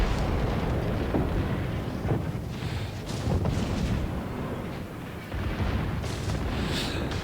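Secondary battery guns on warships trading fire in World of Warships, the Yamato among them: a dense, continuous rumble of booming artillery shots and blasts, loud and overlapping throughout with no clear gaps.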